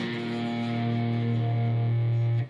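A single downstroke across the bottom four strings of a distorted electric guitar, the A string fretted at the second fret, rings out as a thick sustained chord for over two seconds before being cut short, alone and close.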